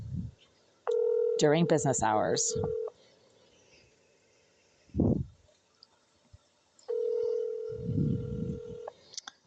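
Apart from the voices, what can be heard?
telephone call to an office, ringing unanswered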